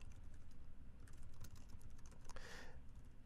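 Quiet, steady computer-keyboard typing, with fast irregular key clicks and a few louder strokes, as code is entered in the old-school vi editor.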